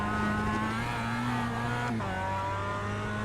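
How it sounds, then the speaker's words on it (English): A Mazda MX-5 Cup race car at Oulton Park in iRacing, its engine droning loudly on throttle with a brief dip in pitch partway through as the tyres spin, heard alone without speech. "just got on the throttle a little too early while I was in the dirt. Spun the tires a little bit"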